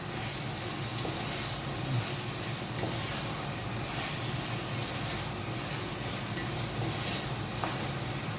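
Chicken fries in a pan with a steady, close hiss and sizzle, a dense crackling wash that holds at an even level throughout with a few brief louder spits.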